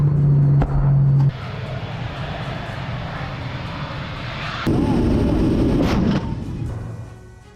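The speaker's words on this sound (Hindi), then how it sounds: "युद्ध क्षेत्र में रूसी टैंक का बारूदी कहर। यूक्रेनी ठिकानों पर दागे गोले।" A Russian tank shelling Ukrainian positions in a war zone, heard as a loud, continuous roaring rumble with a droning engine-like tone and a few sharp blasts, with the sound character shifting abruptly partway through.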